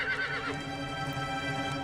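A comedy sound effect of a horse neighing, a bright whinny at the start followed by a steady clip-clop of hooves, loud and close with no talking.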